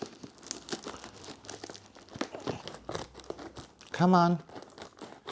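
Hoya plants arrive in a package that gets torn open by hand with repeated crinkling and ripping of plastic wrapping up close, while a person talks briefly and makes a short high vocal sound.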